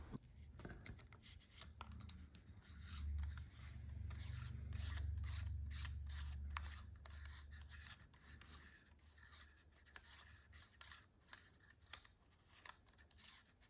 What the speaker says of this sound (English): you can remove the front ring from the lens.